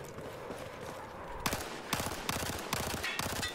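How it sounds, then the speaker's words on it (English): Short bursts of tap fire from an MP7 submachine gun in Battlefield 4, several quick rattling volleys in a row that start after a quieter stretch of background noise. "if you can tap fire, you can take out targets fairly easy with the MP7"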